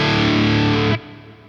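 A guitar amp driven through a Crazy Tube Circuits Super Conductor boost pedal rings out with a loud, saturated distorted chord that sustains for about a second, then cuts off sharply to a faint lingering hum.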